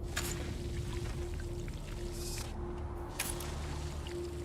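Water is drawn up in the desert survival game Dune: Awakening, heard as a continuous pouring, trickling wash with a steady hum beneath it and a few brighter splashy bursts.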